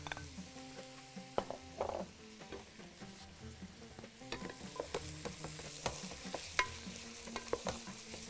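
Chopped onions frying in a pan, a steady close sizzle broken by repeated scraping and clinking strokes of a stirring utensil in an irregular rhythm, with no talking.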